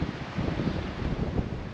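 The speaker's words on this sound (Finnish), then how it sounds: "helvetisti tuulee kyllä saatana" Strong wind buffeting the microphone at a lakeside camp by Lake Karatsjärvi in Sweden, a loud continuous low roar with gusty swells and no speech.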